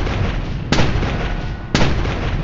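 Two heavy, booming shots from a Williams gun in the game Noblemen: 1896, spaced about a second apart over a dense rumbling battlefield background, each a sharp loud crack with a short tail.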